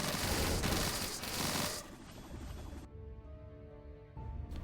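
Scatter shot projectiles in the game Dungeon 100 fire in a dense, rapid burst of cracking shots for about two seconds, then give way to quieter splintering impacts and a ringing electronic tone.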